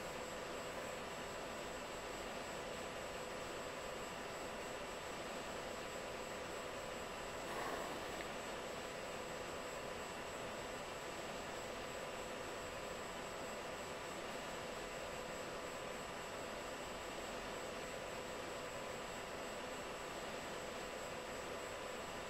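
Steady jet engine roar of a military jet on landing approach in a flight combat game, a continuous broadband drone holding at even loudness throughout with a brief swell near the middle.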